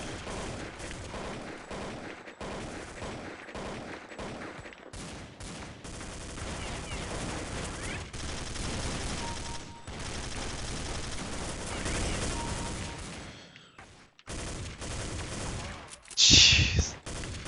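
Rapid AK-47 rifle fire in Counter-Strike: Condition Zero, with loud repeated bursts of shots and a few short gaps, plus a brief sharp metallic clink near the end.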